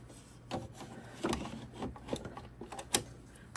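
An embroidery hoop is fitted into an embroidery machine, making a series of close plastic clicks, taps and sliding rubs, soft and irregular.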